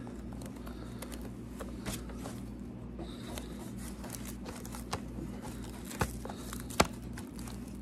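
Latex being peeled off a cheap plastic Easter egg makes a faint, continuous tacky rasp. A few sharper snaps come near the end, with no voices.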